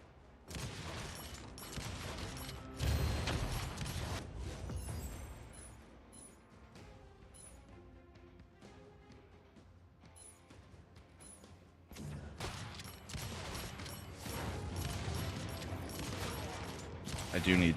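Repeated shotgun blasts from a Tempest shotgun in a video game, loud bursts clustered at the start and again near the end with a quieter stretch of game sounds between, under talk.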